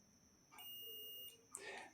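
A digital multimeter set to continuity lets out a single steady beep lasting under a second as its probes touch the pins of an inductor coil. A soft click or rustle follows right after the tone.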